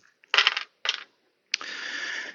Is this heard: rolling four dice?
yes